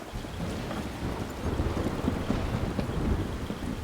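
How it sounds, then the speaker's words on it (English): Steady rain and a low rumble of thunder from a thunderstorm in the video game Life is Strange, a dense continuous wash of sound with no voices. "Passed out, face down, in a storm."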